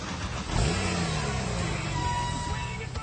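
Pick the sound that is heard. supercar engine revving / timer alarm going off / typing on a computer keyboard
supercar engine revving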